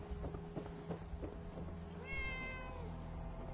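A cat in the Fallout 4 video game gives one clear, drawn-out meow with a rising then falling pitch, over a steady background of game ambience and soft footstep-like thuds.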